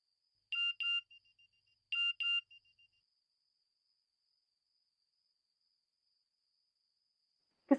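A phone chimes a message notification tone, two short double beeps about a second apart, clear and close in a quiet room, followed by a faint thump at the end.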